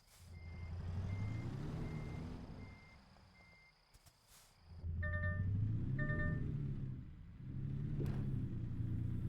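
Steady electronic reversing beeps from a truck in the video game American Truck Simulator, sounding in evenly spaced runs over a low engine rumble that swells and fades as the truck backs up, with no talking.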